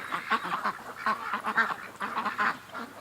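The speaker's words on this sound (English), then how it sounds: "The ducks are moving into position though, because it's the end of the day." Ducks quack and honk in a steady, busy chorus as the flock gathers in a yard at the end of the day, moderately close and without talk.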